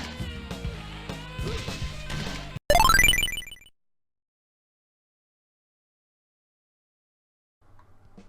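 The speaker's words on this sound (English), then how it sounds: "by performing a special move at the right time, it's possible to send your opponent smashing through said wall to win a match" Arena wall smashed by an opponent in a 1995 arcade fighting game: one loud crash bursts out of busy game music and sound effects, its debris rattling for a moment before quick silence.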